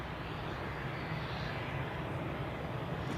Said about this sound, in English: We have the 777 from Chicago now on final for runway 28.